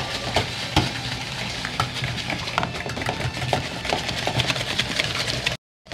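Egg yolk being stirred into pineapple cake dough, a continuous scraping and mixing texture with irregular knocks of the utensil against the bowl for several seconds, ending abruptly.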